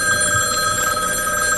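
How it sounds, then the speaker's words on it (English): A telephone bell rings steadily in a home in a 1983 broadcast drama, a bright sustained ring filling the whole moment with no pause, fairly close and alone. "you better answer the phone."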